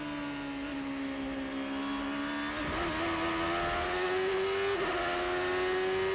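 A race car engine at the 2006 Grand Prix of Road America holds a steady loud drone, its pitch climbing gradually with brief dips at gear changes, close and continuous throughout.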